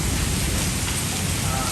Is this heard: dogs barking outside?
no